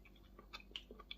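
Soft, close, quiet chewing of baked button mushrooms in gravy: a few moist, irregular mouth clicks and smacks spread over about a second, with no talking.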